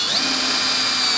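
A cheap AliExpress power drill drives a small screw into a desk, giving a steady high-pitched motor whine that holds constant for about a second, close and alone.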